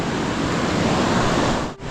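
A river rushes steadily during wading across, giving a dense, close broadband roar of flowing water. It briefly dips near the end, and no voices are heard.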